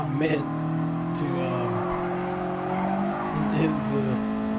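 A Torino hatchback in a racing video game drives close and loud, with a sustained engine drone and tire squeal across the clip while a person talks over it.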